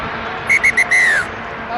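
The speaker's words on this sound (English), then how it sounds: "Half-time whistle blows, courtesy of referee Matt Goddard of Australia" Referee's half-time whistle at an Argentina v Italy rugby union match: three short sharp blasts and then one longer falling blast, piercing over a low stadium crowd murmur.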